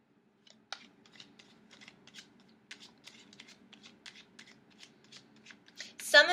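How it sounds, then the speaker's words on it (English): Tarot cards being shuffled close up, a rapid series of crisp papery riffles and flicks with short pauses, ending in a louder snap of cards. "A lot of cards popping out now."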